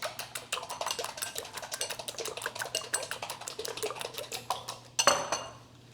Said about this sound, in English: Let's scramble the eggs.